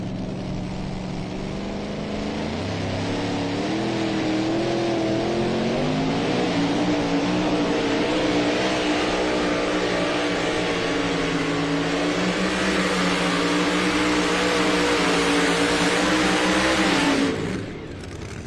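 A super modified two-wheel-drive Ford pulling truck at a night truck-and-tractor pull at 300 Raceway in Farley, Iowa, its engine roaring loud and close with a climbing, sustained wail through the run before cutting off abruptly near the end.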